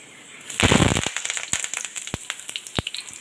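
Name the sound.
curry leaves crackling as added to hot oil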